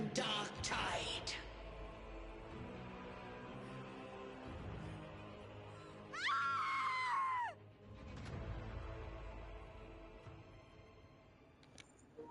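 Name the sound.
scream in the video game Wuthering Waves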